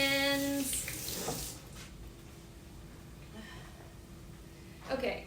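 Tap water running at a kitchen sink during hand washing, a steady soft hiss and splash, while a voice talks over it and a short tone sounds at the start.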